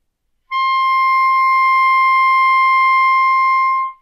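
A single steady, pure clarinet E-flat is held for about three seconds, clear and unwavering, with no other sounds around it.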